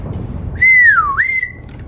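A storyteller whistles to imitate the Grinch calling his dog Max. It is a single clear, loud whistle that sweeps down and then back up before holding steady, with no talking.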